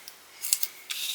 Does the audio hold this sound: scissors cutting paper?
yes